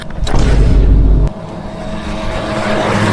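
A car pulls away with a loud, close engine rumble that lasts about a second, then drops off sharply to a quieter steady hum as it moves on.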